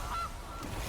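A single brief goose honk sounds from a card video game, short and clear over a steady background hum.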